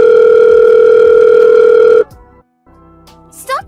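A telephone tone blares loud and steady for two seconds, then cuts off, leaving near silence and a few faint clicks and rustles.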